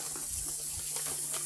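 A kitchen tap runs hot water over frozen blackberries in a steady, gentle splashing stream. A low constant hum sits underneath.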